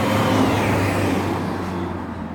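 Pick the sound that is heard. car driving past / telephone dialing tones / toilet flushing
car driving past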